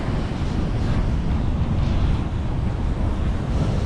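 Ocean waves breaking on the shore at Stuart Beach on Hutchinson Island, Florida: a constant loud roar of surf mixed with heavy wind buffeting the microphone.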